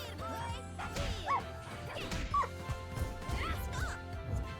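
Dogs barking and yipping in the fighting game Them's Fightin' Herds, several short barks repeating over busy game music and hit effects, moderately loud in the mix.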